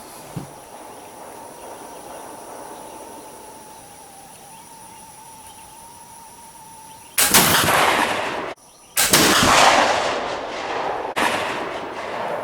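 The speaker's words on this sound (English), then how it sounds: "The second shot was 80 grains of 2F." A smoothbore muzzleloader firing a round ball on a 80-grain charge of 2F black powder, a sharp loud boom at close range over steady insect buzz outdoors, followed by a second blast and a lingering rumble.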